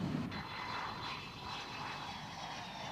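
A Grumman Tomcat runs through touch-and-goes during early carrier tests, with a continuous, broad jet roar and faint whining tones that hold steady at a distance, without speech.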